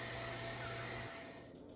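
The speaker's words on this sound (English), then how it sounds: "give it a quick vacuum" A vacuum cleaner runs steadily with a constant whine and airy roar while sucking years of built-up lint out of a portable dryer's blower, then the tone dips and fades toward the end.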